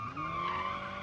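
Tires skid through a car drift in a racing game, played with manual gears, a steady screeching squeal layered over engine drone that holds for just over a second, close and fairly loud.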